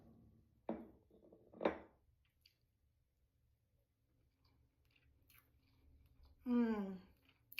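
Two soft bites and chews of a moist lemon sunshine cake, close and quiet with a pause between them, followed near the end by a brief voiced sound.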